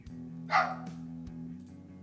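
A single short dog bark rings out at mid-distance over a steady low hum, followed by a fainter second yelp.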